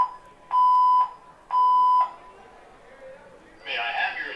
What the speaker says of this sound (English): the alarms are going off here